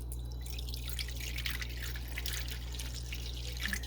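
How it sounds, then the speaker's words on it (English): Room-temperature water poured from a tea kettle into a Pyrex dish for a flan water bath, making a continuous soft trickling and splashing over a low steady hum, with no talking. "I'm pouring it in until it gets kind of halfway up the"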